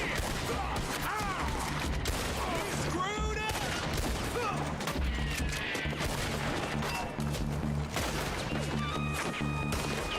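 Gunfire in a Red Dead Redemption 2 shootout, with loud bursts of shots and crashing impacts over a steady, dense background of game sound and a low musical drone throughout.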